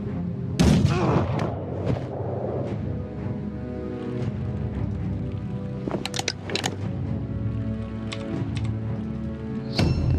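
Gunshots in the turn-based video game Mordheim: City of the Damned, several sharp loud cracks spaced several seconds apart, heard over a tonal background music bed and ringing off afterwards.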